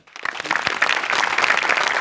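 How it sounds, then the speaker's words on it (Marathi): Applause for a skit performance at a Marathi stage show: clapping starts quickly after a brief pause, then builds into a steady, fairly loud wash of many hands. "तुझ्या अटेम्प्टसाठी टाळ्या व्हायला पाहिजेत."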